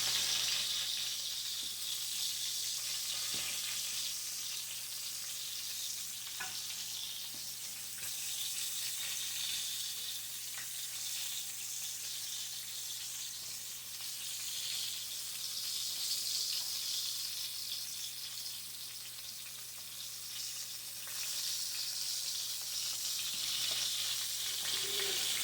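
Arkansas-style hamburger steaks fry in a pan with a steady, dense sizzle and crackle that runs unbroken and fairly close throughout, with no voices over it.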